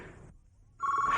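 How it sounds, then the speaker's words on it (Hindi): A telephone starts ringing indoors, a bright steady electronic ring tone rising after a brief hush, fairly loud and close. "Don't pick up that phone."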